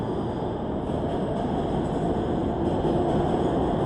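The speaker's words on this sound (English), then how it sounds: "I wait till the train passes because I don't have my wireless microphone." Subway train rumbling past in New York City, a loud, steady broadband roar that fills the whole stretch without a break, close by and with no voices over it.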